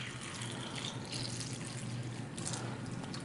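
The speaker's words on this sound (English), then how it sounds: "we're just going to simulate that by pouring some tap water in here" Tap water poured steadily over tomatoes in a container, a continuous close splashing trickle that stays even throughout, with no talking.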